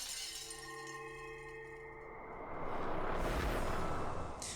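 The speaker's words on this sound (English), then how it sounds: "The bottle was slammed against the floor and smashed to pieces." A glass bottle is slammed against the floor and shatters in the Umineko game, a loud crash with a spray of breaking glass after a rising musical tone.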